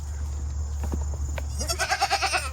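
Goats bleating together in a farm setting, a couple of brief faint calls early on, then a louder, wavering bleat with a pulsing, quavering rhythm near the end over a steady low hum.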